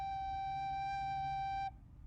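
A single sustained recorder G note, played softly with all three upper holes covered, holds steady and clear for about a second and a half before stopping abruptly.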